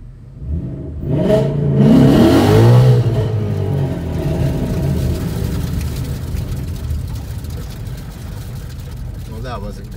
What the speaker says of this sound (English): We're gonna do a burnout on the blacktop, and we're gonna launch.